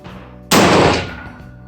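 A Lebel rifle fires a single loud, sharp report on a 100 m range, a sudden close blast whose echo rings and then decays over about half a second.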